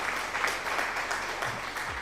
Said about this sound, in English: thank you for the applause, Ollie.